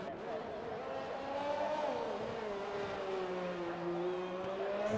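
A Formula 1 car engine in an F1 racing game screams through its gears on a flying lap, the tone climbing and dipping smoothly, fairly quiet beneath a commentator talking over it.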